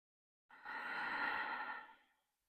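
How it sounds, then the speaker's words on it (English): A single long, soft exhale through the nose during a hatha yoga session, rising smoothly and fading out after about a second and a half, close and alone. "Breathing in and out once again through the nose."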